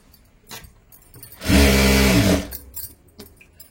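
Sewing machine stitching blouse fabric, a single loud motor burst of rapid stitching lasting about a second, surrounded by quieter handling noises of the cloth before and after.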